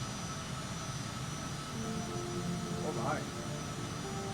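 Simulated airplane engine in a flight simulator game during takeoff from a field, a steady moderate hum with a short rising tone and a brief voice over it.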